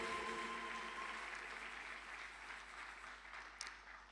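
A church congregation applauds as a continuous wash of clapping that stays fairly steady and gradually softens, heard from a distance and fairly faint.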